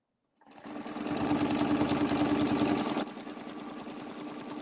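A sewing machine stitches fabric for an Easter placemat, running steadily and close with a fast mechanical rhythm for about three seconds before dropping to a softer, slower hum.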